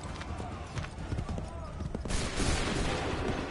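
Musket volleys from massed soldiers in Assassin's Creed III, cracking shots that build into a denser, louder burst of gunfire midway, with shouted orders and voices mixed in.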